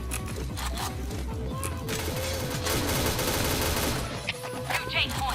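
Rapid video game gunfire crackles in dense bursts of repeated shots, loud and near, mixed with other in-game effects and brief voices.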